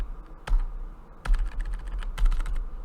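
Quick bursts of clattery keystrokes on a computer keyboard, close and crisp, coming in three short runs separated by brief pauses, with no voices.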